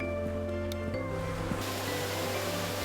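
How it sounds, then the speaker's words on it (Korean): Clear stream water flowing steadily through the Gugok Falls valley, a continuous near rush of water under a faint steady hum, with no voices. "맑고 깨끗한 물이 흐르는 구곡폭포 계곡입니다."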